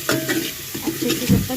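Turmeric and salt sautéing in a pan for khichdi, a soft sizzle broken by several short scraping strokes of a spoon stirring through the mixture, close and fairly loud.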